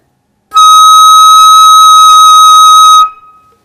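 A single sustained flute tone, a high D sharp in the third register, held steady and clear for about two and a half seconds before fading, played alone with no talk.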